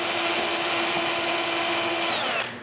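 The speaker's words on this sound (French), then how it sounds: "Je coupe la tête d'un petit clou et je perce à l'endroit où j'ai fait ma marque." A small nail with its head cut off serves as a bit, drilling a hole at a marked spot in a wooden round frame; the high, steady whine runs close and loud, then cuts off near the end.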